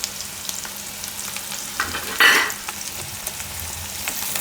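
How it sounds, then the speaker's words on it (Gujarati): Curry leaves drop into hot oil in a pan for a Gujarati chana dal and soya chunk curry, setting off a sudden loud hiss burst midway over a steady low crackle of frying, close and without voices. "હવે લીમડો નાખી દઉં આમાં."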